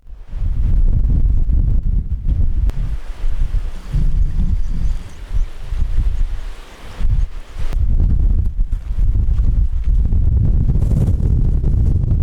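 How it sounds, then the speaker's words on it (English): Strong coastal wind buffeting the microphone on the Cornwall coast path near Nanjizzle, a loud, continuous low roar with brief lulls and gusts. "The wind was definitely picking up, and I found myself constantly fighting against it"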